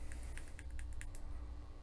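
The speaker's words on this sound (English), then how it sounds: "you click the unit 5 times to turn it on" A GQ Plasma vaporizer button is pressed five times, giving a quick series of small, sharp plastic clicks close up over a faint hum.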